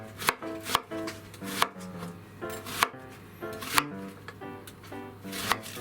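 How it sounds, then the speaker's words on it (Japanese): Knife chopping an onion into roughly one-centimetre slices on a cutting board, a steady run of close, crisp thuds in quick regular bursts, with no talking. "玉ねぎはカットで"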